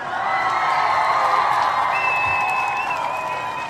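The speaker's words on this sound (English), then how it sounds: "Let's give them a round of applause." An audience applauds at a live stage event, with steady, dense clapping and a sharp whistle cutting through partway.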